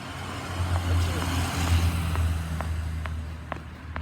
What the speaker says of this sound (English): sorry about the cars